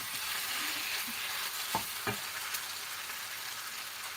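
Chicken meat fries in a pan for a Filipino-style garlic stir fry with shrimp, giving a steady dense sizzle throughout and a couple of brief clanks from stirring near the middle.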